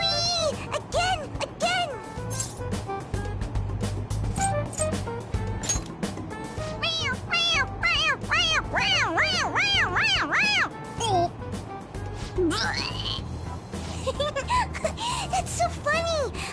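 A pressed toy cat gives a long series of repeated electronic meows, short rising-and-falling mews in quick succession, mixed with other game sounds and background noise.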